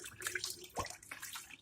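A little water poured into honey before stirring, a faint short splashing trickle with a small gurgle midway, quiet and without talk.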